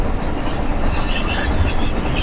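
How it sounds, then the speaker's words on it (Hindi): The Millat Express rolls without stopping past the Jarala railway station yard, a loud, steady rumble of wheels and carriages with a rising metallic rush of rail noise. "ट्रेन दोस्तों बिना रुके जड़ाला के रेलवे स्टेशन को क्रॉस करेंगे"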